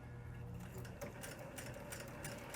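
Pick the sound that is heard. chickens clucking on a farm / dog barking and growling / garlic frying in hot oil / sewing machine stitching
sewing machine stitching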